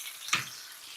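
A single sharp pop of hot oil spitting in a frying pan from leftover water, cooking vegan salmon cakes, bursting briefly over a steady close sizzle.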